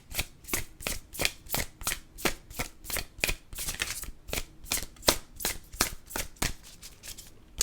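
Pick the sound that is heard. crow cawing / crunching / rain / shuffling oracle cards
shuffling oracle cards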